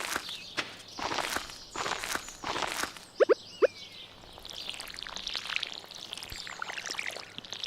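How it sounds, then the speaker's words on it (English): Watering crops with a watering can in Stardew Valley: soft splashing pours and footstep-like taps in the opening seconds, then two sharp clicks and a lighter wet trickle, all fairly quiet with no talk. "I like the sound of the watering in this game."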